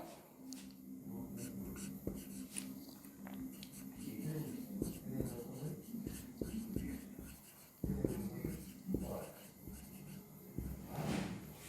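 Teacher writing out a chemistry question on electron configuration, scattered scratchy strokes at moderate level, mixed with soft voice sounds and breathing.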